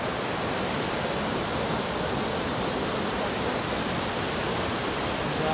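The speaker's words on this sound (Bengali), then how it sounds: "ওই যে জল চলে যাচ্ছে" Water rushing along a mountain stream in Sikkim, a steady, dense broadband roar that stays even and close throughout with no pauses.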